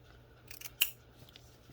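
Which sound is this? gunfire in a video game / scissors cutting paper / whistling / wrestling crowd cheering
scissors cutting paper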